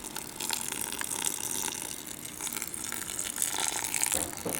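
Water rinsing through grain during sparging in a Braumeister electric brewing system while brewing a pale ale, a steady, close trickling and gushing flow without pauses.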